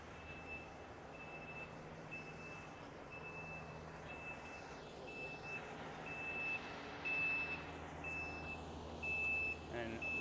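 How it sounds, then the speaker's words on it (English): A truck backs in on a downtown Grand Rapids street. Its reversing alarm sounds as a steady series of evenly spaced beeps over a low engine rumble and street noise, with a voice faintly present. "we've just got to wait for this truck to back in"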